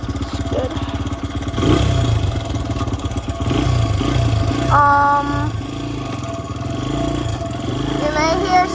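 A newly acquired dirtbike with a recently repaired chain runs after starting, its engine loud and steady with a rough clatter, with brief talk mixed in.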